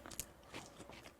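Crunchy air-fried fries get bitten and chewed close up, a few quiet crisp crunches in quick succession, with no talking.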